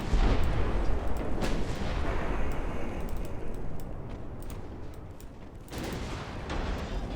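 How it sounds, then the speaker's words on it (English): Battleship guns firing in the naval game Ultimate Admiral: Dreadnoughts, a dense continuous roar of distant booming salvos with a few sharper blasts standing out, steady and loud throughout without speech. "Not sure I want Kaiser Wilhelm firing on him, though."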